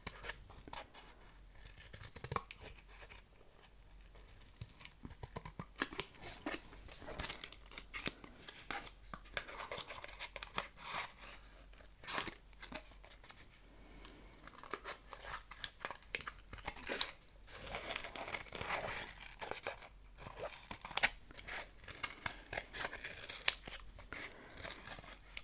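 Scissors snip through paper for an art journal page, a long, continuous run of close, crisp cuts with irregular rhythm and occasional crinkling of the sheet, no voices.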